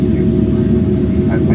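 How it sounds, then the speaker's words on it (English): Airliner rolling along the runway in Paris just after landing, a steady loud low engine roar and broadband cabin rumble filling the whole stretch, with faint voices in the cabin underneath. "we just landed in Paris. You can see we are on the runway."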